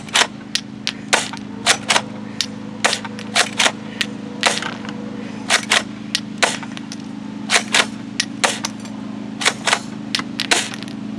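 A Zhendotoys toy shotgun firing rounds, a long series of sharp cracking shots at irregular intervals over a steady mechanical hum, loud and close, with no voices.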